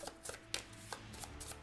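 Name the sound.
shuffling a deck of game cards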